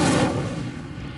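A single short, booming fiery burst from the Incendio spell in the Hogwarts Legacy video game, loud at the start and then decaying quickly.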